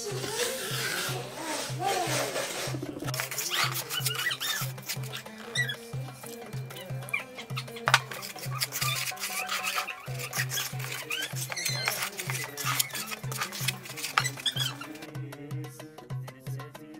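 Hands rub and work water into couscous grains in a bowl for a Berber Yennayer celebration, a soft continuous patter and rustle in close, rhythmic strokes over a low background hum.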